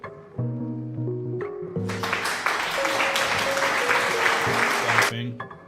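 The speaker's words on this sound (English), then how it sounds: "Clapping." A clapping sound effect plays on a live stream, a burst of dense applause that starts after a moment and lasts a few seconds over talk and tonal background sounds, then cuts off.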